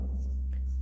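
Pen or marker strokes while a geometry solution about similar triangles is written out, short scratchy strokes over a steady low electrical hum, close and quiet, with no speech.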